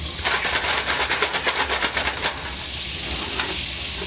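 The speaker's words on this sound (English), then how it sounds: "I'm going to get my meat cooked down in bacon fat" Meat frying in bacon fat in a home kitchen, a steady close sizzle with a run of soft stirring scrapes through the first half before settling into continuous crackle alone.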